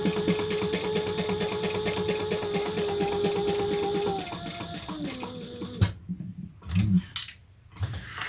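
Sewing machine top stitching a crossbody bag, a close, steady rapid whir of needle strokes that slows and stops partway, followed by brief rustling and handling of fabric.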